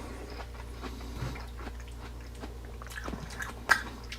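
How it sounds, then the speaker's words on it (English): Close chewing of watermelon, soft wet squishy bites with small crunchy clicks and a sharper bite near the end, against a low steady background hum. "Watermelon, I could chew it with my tongue."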